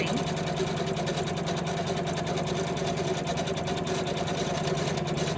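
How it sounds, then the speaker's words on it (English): A sewing machine stitches a double tack-down line through quilt batting on a star quilt block, giving a steady, continuous mechanical whir with a fast, even stitching rhythm at constant loudness and no voices. "It always does a double line of stitching when it's doing what are called tack down lines."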